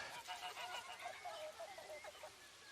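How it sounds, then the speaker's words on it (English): A goose honks repeatedly in quick, nasal calls, several in a row, quiet and somewhat distant with a faint background hush. "The goose is Carlos."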